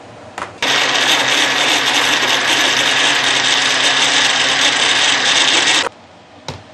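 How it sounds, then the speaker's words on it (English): A blender whirs loudly and steadily for about five seconds while blending tom yum paste with oil. The motor starts and stops abruptly, with a couple of soft knocks before and after. "you can actually add some oil to ease the blending process"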